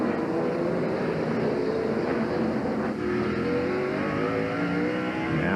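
NASCAR stock cars racing at Sears Point road course in 2000, a steady loud engine roar with shifting revving tones from several cars, continuous and without pause.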